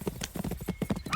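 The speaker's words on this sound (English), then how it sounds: "It then bolts and drags the rider away as he bounces out of control on the galloping steed" A galloping horse with rapid, rhythmic clip-clop hoofbeats, steady and fairly close, with a faint whinny near the end.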